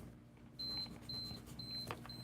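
A timer beeps in short repeated electronic tones, fairly faint over a quiet room hum.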